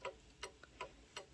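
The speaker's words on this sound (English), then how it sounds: "So that is that tick-tock sound coming out of the mechanism." Even tick-tock of a count wheel mantle clock mechanism, four crisp evenly spaced ticks heard close up and faint, with a tiny extra click between two of them.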